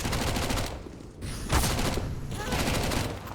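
Gunfire from a Counter-Strike match on the Mirage map, with dense bursts of shots and booms that rise and fall over a few seconds, steady and loud throughout.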